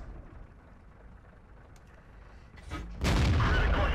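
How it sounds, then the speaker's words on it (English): A KV-1 tank cannon fires in World of Tanks and the shot bounces, a sudden loud blast that lands near the end of a quiet stretch of low engine rumble. "So again, I try to take a shot at him, and it bounces."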